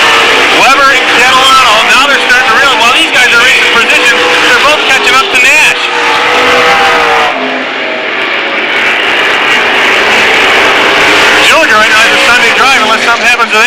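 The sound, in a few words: race cars racing at Lancaster Speedway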